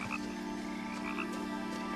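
A frog croaks inside an old house in the video game What Remains of Edith Finch, a steady low, throaty call running continuously under faint ambient background.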